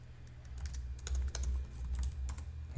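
Code is typed on a computer keyboard in quick irregular clusters of close, crisp key clicks over a low steady hum.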